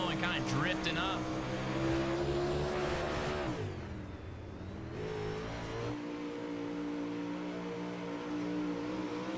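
Dirt-track race cars roaring around a racetrack, engines droning and swelling as they pass in a pack, the pitch dipping briefly mid-run before climbing again, steady and fairly loud throughout.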